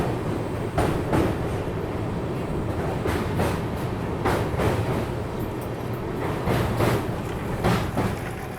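Gorakhdham Express passenger train rolling steadily along the track, a continuous loud rumble of the carriage with repeated rhythmic clacks of wheels over rail joints, heard from inside the coach with no talking.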